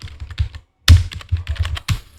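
Quick bursts of clacking keystrokes on a computer keyboard while a terminal command is typed, close and crisp with a short gap and no talk.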